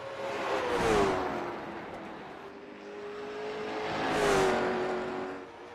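A stock car laps South Boston Speedway in a sim racing game, its engine note rising and falling twice as it sweeps past, a whining, droning tone that swells loud then fades.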